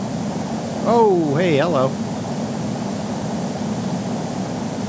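In Flight Simulator X, a Vickers VC10 airliner rolls down the runway for takeoff with a steady, broad engine roar, while a voice briefly speaks over it.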